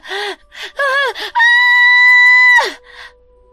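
A young woman's loud, sustained scream of terror, preceded by short gasping cries and ending in a falling wail, close and prominent during a horror story narration.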